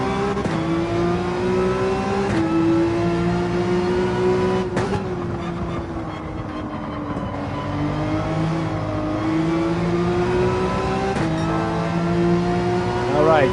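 A race car in Gran Turismo 7 at the Maggiore circuit revs hard and climbs through its gears, the engine pitch rising and then dropping at each shift, loud and sustained, with a voice talking over it.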